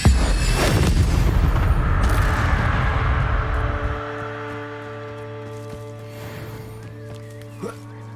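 The Incendio fire spell cast in Hogwarts Legacy, a loud booming burst of flame that roars for a few seconds and then fades into a low sustained hum with a faint later flicker.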